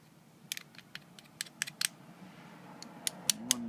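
A pump plunger is screwed down on a Chauvet or American DJ fog machine, giving a series of small, sharp clicking and ratcheting ticks in irregular rhythm, close and fairly quiet.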